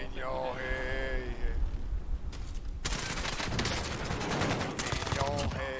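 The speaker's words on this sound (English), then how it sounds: "I'm being sniped at from other side of hospital" Rapid sniper and automatic gunfire in the video game Valorant during a pro match watch party, bursts of shots packed across the clip, some near and sharp, with a brief quieter gap before dense firing resumes.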